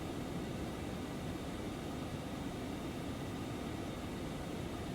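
Steady broadband roar of a Phenom business jet's engines in flight after takeoff, climbing toward clouds, continuous and even with no break or speech.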